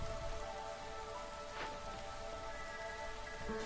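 Steady drizzling rain in a farming video game, a soft continuous hiss of fine drops on surfaces with a faint low hum, even and unbroken throughout with no talking.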